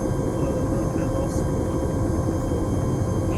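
A helicopter in a video game gives off a steady, loud, low rumbling engine drone that holds without break, with a faint hum of voices beneath it.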